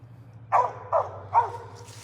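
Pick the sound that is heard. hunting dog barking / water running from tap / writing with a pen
hunting dog barking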